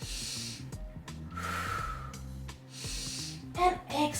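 Several slow, breathy exhales during a yoga flow come in long airy waves close to the microphone, with soft instrumental music playing steadily underneath.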